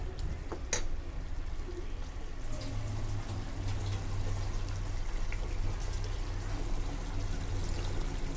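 Water being poured into rendang cooking on the stove, a steady soft stream and trickle after a couple of clicks, with a low hum underneath.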